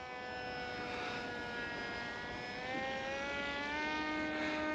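A cheap, lightweight RC plane with a high power-to-weight ratio climbs steeply, its small motor whining in a bright, steady buzz that slowly rises and falls in pitch as it flies at a distance.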